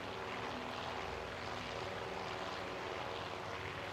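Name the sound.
dive bomber aircraft engines in the video game Task Force Admiral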